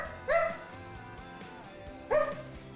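A dog gives two short, clear barks about two seconds apart, close by, against a quiet background with faint low hum.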